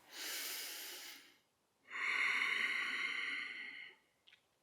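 Slow, deliberate breathing during a home yoga flow: a soft airy exhale, a pause, then a longer, louder inhale-like rush of breath, close and alone with no talking.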